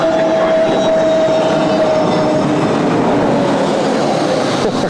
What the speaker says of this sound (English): A321 Neo making a bit of a racket there